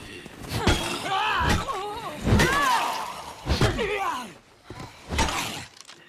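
Zombies in a video game let out rough, wavering screams and groans, several overlapping cries rising and falling amid thuds and crashing combat noise, loud and close.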